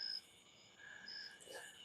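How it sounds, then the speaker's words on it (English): Cicadas or similar insects buzz outdoors in a steady high-pitched drone that carries a few sustained tones and swells slightly near the end, faint and continuous with no talking. "Plus, I hear all those cicadas."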